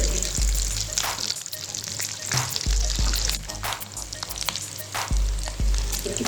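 Chicken potato cutlets sizzle and fry steadily in a pan of hot oil, a continuous close crackle with a few low thumps as the cutlets are turned over.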